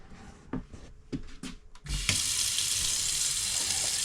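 A tap is opened after an inline water heater install in a cabin: a few knocks and creaks first, then water gushes steadily and loudly from the faucet into the sink.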